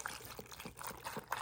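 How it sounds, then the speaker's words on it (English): Chicken broth poured into the side of a roast pan beside a herb-coated roast, a soft continuous liquid trickle with small splashy bursts, close and fairly quiet with no talking. "I'm going to pour it on the side"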